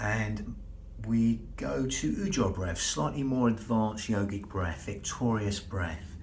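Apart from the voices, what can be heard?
No distinct noise like a dog, phone or traffic.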